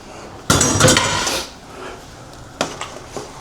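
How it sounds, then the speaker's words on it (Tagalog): Chopped celery tipped into a pot of chicken sopas, a clattering burst of pieces and utensil against the pot, then a couple of lighter clinks a moment later. "Lagay na rin natin yung ating ginayat na celery."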